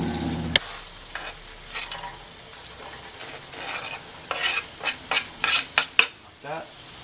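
Salmon sizzles in a pan over high heat, close by, with a steady fry and bursts of louder spatter and sharp utensil clinks toward the end.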